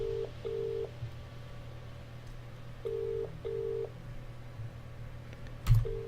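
In a video game, a telephone dials 999 as a short series of clean, evenly paced keypad tones over a low electrical hum, ending in a brief thump.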